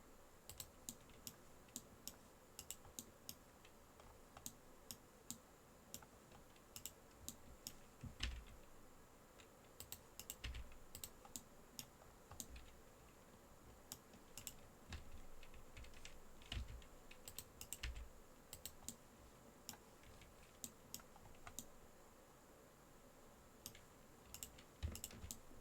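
Computer keyboard keys tapped for Blender shortcuts, quiet and close, in irregular bursts of single clicks and short runs over a low steady hum, no voices.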